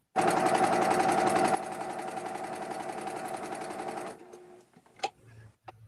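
A home sewing machine stitches across quilted fabric in a fast, steady, loud mechanical run that slows partway, then stops, followed by a few light handling clicks.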